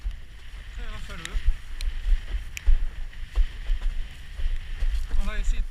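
Gusty wind while windsurfing buffets the microphone in repeated low, uneven thumps and rushes, with water and board noise around them and occasional faint voices.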